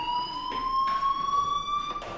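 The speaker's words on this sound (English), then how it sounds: "Hey, do you hear that fire alarm?" A fire alarm in the video game Life is Strange blares as a loud, continuous electronic tone that rises slightly in pitch, with pulsing bursts of harsher noise every second or so.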